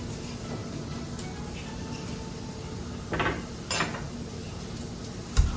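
Corn fritters fry in a pan with a faint steady sizzle, broken by a few brief scrapes and clinks of a spatula against the pan.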